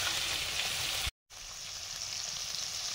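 Chopped onions hiss and sizzle loudly in hot oil in a pan after spices and fried potatoes, a dense steady crackle broken by a brief cutout, then resuming close and bright.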